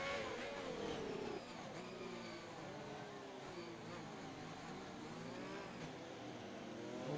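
Race cars in a Singapore street-circuit racing video game crawl behind the safety car across a bridge, giving a faint, continuous layered engine whine with slowly shifting pitch and no break.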